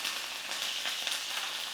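Curry leaves crackle in hot oil with mustard seeds and cumin for a Telangana dal tempering, a dense, even, close sizzle that hisses continuously without pause or voices.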